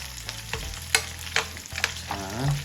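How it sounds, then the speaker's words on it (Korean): Thin pork belly slices fry in a pan with a steady sizzle, broken by a few sharp scraping and stirring clatters of a utensil. "여기 팬에 기름이 모여질 수 있게 구워주세요."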